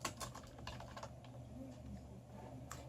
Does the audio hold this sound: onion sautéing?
no